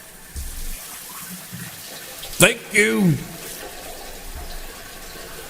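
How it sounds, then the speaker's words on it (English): A faucet is turned on and water runs with a steady hiss, broken by a brief squeaky swoosh in the middle. A voice says a short thank-you over it. "can someone please turn on the faucet for me?"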